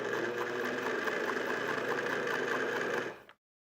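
A loud vintage sewing machine stitches a quilt with a rapid, steady mechanical chatter up close, running continuously for about three seconds before stopping abruptly.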